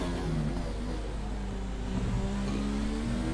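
Race car engine in a simulated division race at Austria, a continuous whining drone that holds steady and rises slightly in pitch, loud and alone without voices.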